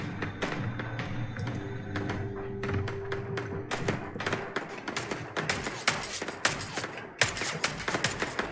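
Gunfire in the video game Starfield: rapid bursts and single shots crack repeatedly, growing denser and sharper toward the end, layered over a low game ambience.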